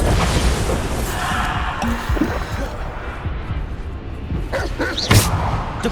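A Bombarda spell explodes in Hogwarts Legacy, a rumbling, crashing burst with debris-like clatter and a sharp crack near the end, mid-loud over a constant low wash.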